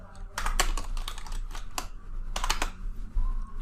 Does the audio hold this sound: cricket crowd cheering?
no